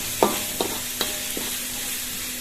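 Chilies being stir-fried in a pan, with a few distinct stirring scrapes spaced through the clip over a low, steady sizzle.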